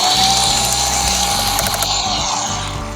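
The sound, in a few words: screwing parts together with screws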